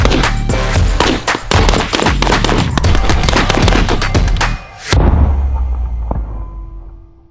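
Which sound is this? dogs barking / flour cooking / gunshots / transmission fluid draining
gunshots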